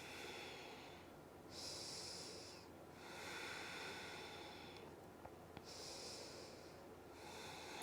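Slow, audible breaths during a vinyasa yoga stretch, airy inhales and exhales alternating in long swells of about a second or two each, close and soft against a quiet room.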